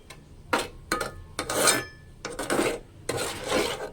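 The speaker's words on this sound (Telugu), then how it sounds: "ఇలా మొత్తం మనకి ఉండలు లేకుండా కలుపుతూ ఉండాలన్నమాట, ఉప్మా కలిపినట్టు" A spoon scrapes and stirs a flour mixture in a pan to break up lumps, making a string of separate rasping strokes with short pauses between them, close by with no talk.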